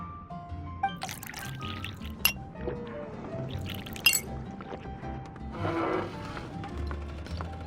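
Juice poured into a glass in a fantasy video game, a brief liquid trickle and clink against glass mixed among soft game ambience and background music, with a louder gurgling burst near the end.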